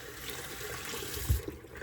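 Water runs from a tap onto a washcloth in a steady broadband rush, with a brief heavier splash near the end.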